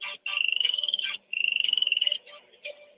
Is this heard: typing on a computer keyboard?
no